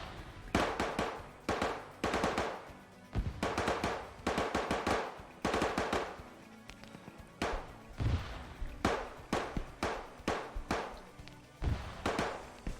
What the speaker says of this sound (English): Got a bullet go over my head.